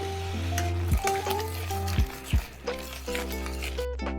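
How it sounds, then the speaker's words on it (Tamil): Ground tomato for tomato thokku sizzles and sautés in a pan, with close, sharp clinks as a spoon scrapes and stirs. The stirring comes in a few distinct strokes over the steady frying hiss. "இப்போது அரைத்த தக்காளி விழுந்து சேர்த்துக்கலாம் நல்லா வதக்கி விடணும்"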